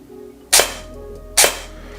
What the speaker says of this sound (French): Alors j'appuie, et le tir se fait ici, au milieu de la course.